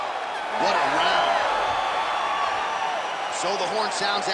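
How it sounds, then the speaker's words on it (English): Video game crowd in UFC 5 roaring after a round ends, a sustained loud cheering wash with a commentator talking over it throughout. "So the crowd voicing its appreciation after that round."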